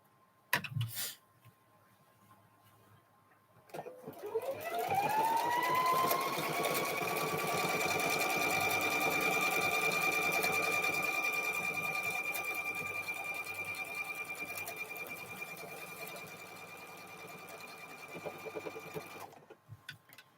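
A sewing machine stitches a quilted bowl cover with a steady, fast mechanical whir. It runs continuously for about fifteen seconds at close range after a brief clatter, then stops.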